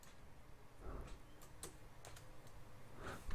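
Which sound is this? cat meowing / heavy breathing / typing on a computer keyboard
typing on a computer keyboard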